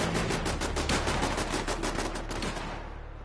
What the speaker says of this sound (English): My sentry guns are going mad.